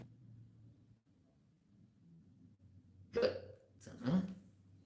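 Two sharp hiccups close together, a person's involuntary gulping spasms, loud against a quiet low hum.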